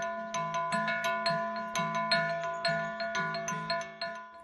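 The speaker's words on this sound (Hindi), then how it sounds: "चट्टान से निकलती संगीत की इस ध्वनि ने वातावरण को संगीतमय कर दिया था।" A stone strikes a rock, producing a musical, bell-like ringing; a steady series of evenly spaced metallic-sounding tones, each decaying quickly, repeating in a melodic pattern.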